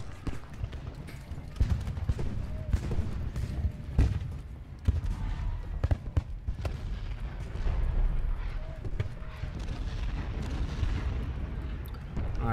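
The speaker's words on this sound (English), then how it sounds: "The artillery fire is not really affecting them" Artillery fire in the Civil War battle game Ultimate General Gettysburg, a rumbling barrage of repeated cannon booms and scattered gunshots at irregular intervals over a steady low battle din, fairly distant and moderate.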